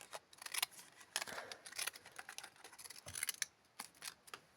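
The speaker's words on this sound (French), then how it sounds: "Découper." Scissors snip through material for a recycling craft project in a series of quick, crisp, close cuts, irregular and fairly quiet, with no talking.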